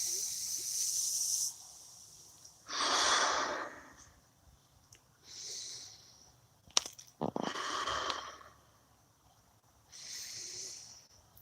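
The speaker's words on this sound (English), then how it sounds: "Take a nice deep breath" Slow, deep breaths during guided meditation: long, soft hissing inhales and exhales come in a calm, repeating rhythm, close and quiet, with silence between them.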